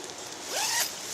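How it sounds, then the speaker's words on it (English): A single quick zip on a one-person bivy tent, close and crisp, pulled in one rising stroke lasting under a second with no other sounds. "You have a top zipper"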